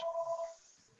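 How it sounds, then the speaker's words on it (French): An incoming call on a telephone sounds as a short electronic ringing tone, two-tone and pulsing, lasting about half a second before fading into quiet room noise. "Fait qu'il y a quelqu'un qui m'appelle, pas sur la bonne ligne."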